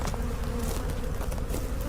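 Bees swarm around a hive at close range, a dense continuous buzz with individual insects whirring past the listener, loud and steady with no talking.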